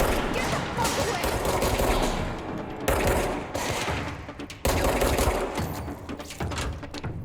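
Rapid automatic gunfire in the video game Control, loud dense bursts of rattling shots in several long volleys separated by brief breaks, with faint voices underneath.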